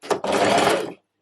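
A sewing machine runs a short top-stitching pass along a trouser waistband on a half-elastic-waist pair: a brief start, then about a second of steady close whirring that stops abruptly.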